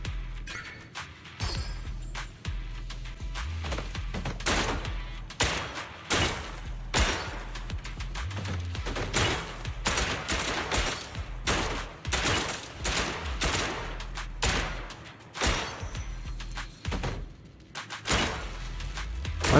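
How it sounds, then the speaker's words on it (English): Sustained automatic gunfire in a video game, rapid dense bursts of shots with crashing impacts rolling on almost continuously, loud and near. "Why does this thing have auto fire?"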